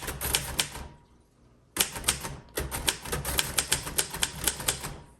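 Keys clack on a 1952 Royal Quiet Deluxe manual typewriter in quick bursts, a sharp close burst, a pause of near silence, then a longer run of typing.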